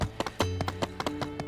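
Horse hooves clip-clop in steady rhythm in the game My Time At Sandrock, a quick string of sharp, close taps over a low droning music bed.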